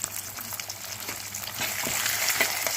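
Green chillies and turmeric sizzle and fry steadily in a pan, a continuous close crackle that grows slightly louder and busier toward the end, with no voices.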